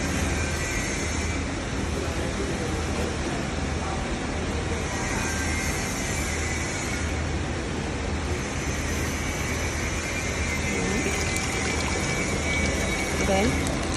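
A candle heating and filling machine runs with a steady, even mechanical whir and hiss throughout, with a faint rhythmic swell, fairly loud and continuous.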